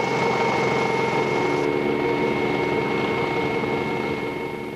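A Westland Scout helicopter in manually piloted flight over Boscombe Down airfield, its engine and rotor making a loud, steady drone with a sustained whine that runs unbroken throughout, with no voices.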